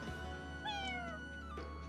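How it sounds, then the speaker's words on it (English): A cat in the video game Fire Emblem Engage gives one clear, drawn-out meow over soft game music, with no talking. "Looks like we can adopt a cat."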